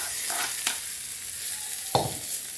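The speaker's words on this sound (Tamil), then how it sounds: "ஒரு டீஸ்பூன் எண்ணெய் ஊற்றி கடுகு உளுத்தம் பருப்பு போட்டுக்குங்க" Mustard seeds, urad dal and curry leaves tempered in a teaspoon of oil for capsicum chutney, giving a steady close hiss of sizzling oil broken by a few sharp crackles and pops.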